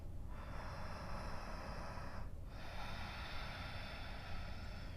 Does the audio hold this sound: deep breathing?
yes